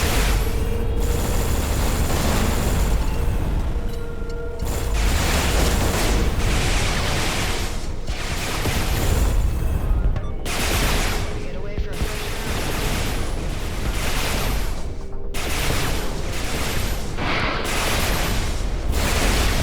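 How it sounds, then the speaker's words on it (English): In the space game Everspace 2, a corrosion missile is fired at enemy ships amid dense, crackling blasts and booming impacts that surge in repeated loud bursts with barely a pause. "Okay, so that was the corrosion missile."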